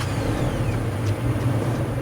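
A third-generation Toyota Tacoma engine runs just after an oil change, giving a steady, close, low rumbling idle that holds evenly throughout with no pauses.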